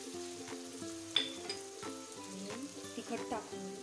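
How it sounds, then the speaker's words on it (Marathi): Browned onions fry with turmeric in a pan for Maharashtrian puri bhaji, a soft continuous sizzle broken by scattered clinks and scrapes of stirring, close and fairly quiet. "थोड्या वेळा परतून घेऊया त्याला व्यवस्थित।"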